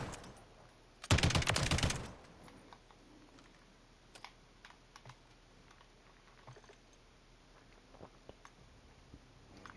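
A light machine gun with a 100-round 5.56 magazine fired at a video game range: one loud burst about a second long, followed by quiet with sparse faint clicks.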